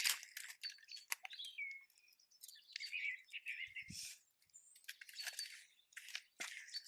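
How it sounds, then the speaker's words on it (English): Small songbirds chirping and twittering in a garden among roses and vegetable beds, quick bright high calls scattered throughout, faint and distant with no talking. "Wonderful to hear the bird song."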